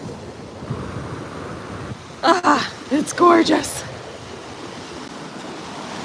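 Ocean waves at St. Pete Beach, Florida, a steady low wash of warm surf with wind across the microphone, close by, while a person speaks briefly over it.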